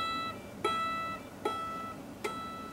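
Three evenly spaced guitar notes sound at the 12th fret by hammer-on alone without picking, each a light percussive tap followed by a soft ringing tone, quiet and close.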